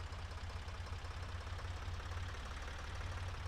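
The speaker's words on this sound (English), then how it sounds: "Here comes our tractor." A small tractor engine in the city-building game Workers & Resources: Soviet Republic chugs at a steady low idle, a constant rumbling drone with no voices over it.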